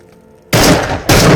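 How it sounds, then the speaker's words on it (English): An IZH-27 over-and-under double-barreled Soviet shotgun fires two loud, close blasts in quick succession in the VR game Into The Radius, each a sharp boom with a sustained roar. "This is the IZH-27, an over and under double-barreled Soviet shotgun."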